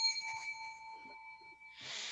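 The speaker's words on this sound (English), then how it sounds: "I'm gonna ring this bell" A hand bell rung near, giving a bright sustained ringing tone with strong overtones that decays slowly over about 1.7 seconds, followed by a burst of broadband noise at the end.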